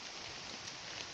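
Rain falls outside as a steady, dense patter of drops, an even wash of sound with no gaps and no voices.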